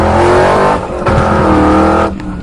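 Cartoon car racing fast, a loud engine roar that surges, briefly dips, then revs again before cutting off near the end.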